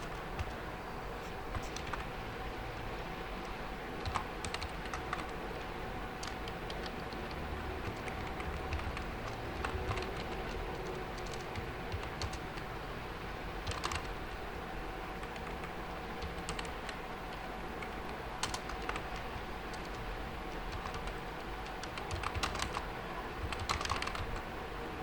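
Computer keyboard typing while coding PHP input fields, with scattered bursts of clicky keystrokes at close range over a faint steady hum, pausing now and then before resuming.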